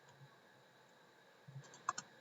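A few faint, quick computer keyboard key clicks land near the end, typed while coding a PHP REST API, over a quiet room hiss.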